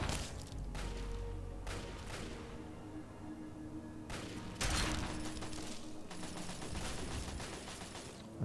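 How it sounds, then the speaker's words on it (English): Gunfire from Talon Company attackers in Fallout 3, a busy stretch of sharp cracks and rapid bursts with clattering mechanical noise, fairly faint overall with a louder volley midway and sustained ringing tones behind. "I'm not quite sure what they're shooting at."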